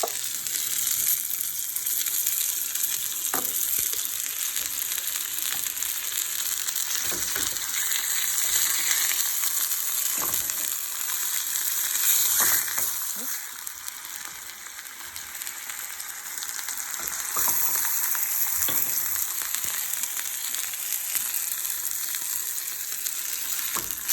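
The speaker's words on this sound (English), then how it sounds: "I'm going to cook them on each side for 3 to 5 minutes" Food frying in a pan, a steady loud close sizzle running throughout with occasional soft clicks and stirs, no voices.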